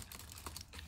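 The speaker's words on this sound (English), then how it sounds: "the keyboard feels really good" Fingers tap quickly across the keyboard of an iBook G3 Tangerine Edition laptop, a quiet run of close, light plastic key clicks in an uneven rhythm.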